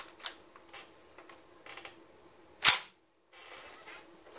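An M1 Garand rifle's operating rod drawn back, a single sharp metallic clack standing out among faint scattered handling clicks and rustles.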